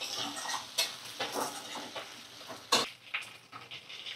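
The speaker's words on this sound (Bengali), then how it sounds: "একটু এটা পেঁয়াজ আলু এখন ভাজা করছি" Onions and potatoes fry in a pan, giving a soft continuous sizzle broken by occasional clinks and scrapes from stirring. The sound is close and fairly quiet.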